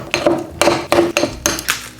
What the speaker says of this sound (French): Je mélange.